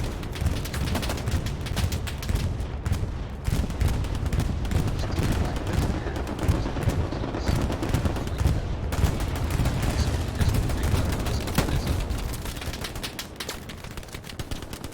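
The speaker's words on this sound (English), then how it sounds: "Enemy machine gun, heavy fire." Heavy machine gun fire in the World War II shooter Hell Let Loose, long dense bursts of rapid shots rattling almost without pause, loud and close, with scattered other gunfire mixed in.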